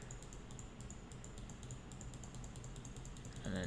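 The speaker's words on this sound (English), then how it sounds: "And then just keep clicking to cover this up." Rapid computer mouse clicks in a Shopify store editor, a steady, close series of light clicks over faint background hiss, with no talking.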